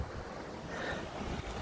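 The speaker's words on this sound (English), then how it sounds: "it's got really fucking windy" Strong wind gusting outdoors, buffeting the microphone with a constant loud roar and low rumble across the whole moment, with no talking.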